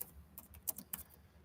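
Quick bursts of typing on a computer keyboard, a handful of close, crisp key taps in an irregular rhythm over a quiet background.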